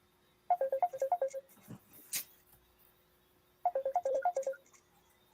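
A mobile phone ringtone chirps in two bursts of quick repeated electronic tones, first near the start and again later, cutting through a quiet indoor meeting or call with a brief noise between.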